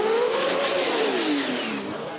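An RB-engined drag car at Jamboree Brisbane screams at high revs, a loud rising-then-falling engine howl sweeping past and fading slightly at the end, with no voices.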